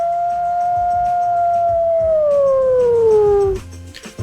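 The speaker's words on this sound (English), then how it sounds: "Happy to begin this beautiful Wednesday with a howl." A recorded wolf howl plays on a radio show, one loud sustained tone that holds steady, then slowly slides downward for about three and a half seconds before cutting off.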